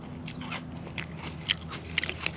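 Close, crisp crunching of Captain Crunch cereal with milk, a series of soft bites and chews, quiet and outdoors in the Arizona desert.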